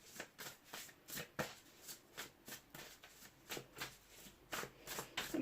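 Tarot cards being shuffled for a reading, a close, quiet series of regular riffling bursts about every half second, with no talk.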